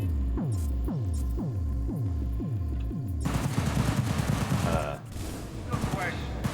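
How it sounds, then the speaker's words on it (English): Gunfire in the Cyberpunk 2077 video game: a steady string of loud, close single shots with ringing tails gives way to dense, rapid automatic fire over a low hum. "They're shooting the Delamain."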